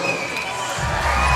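A crowd murmurs and rumbles at a Commonwealth Games match between Cameroon and Scotland, a broad hum of spectators that swells toward the end.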